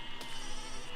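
Sheep bleating in the physics building game Besiege, a short faint bleat over a steady broadband wash of game ambience, with a second brief cry near the end.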